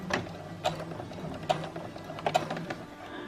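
A sewing machine stitches a bra, running a couple of short stitches back and forth with quick mechanical clatter and ticks, close and fairly loud with no talking.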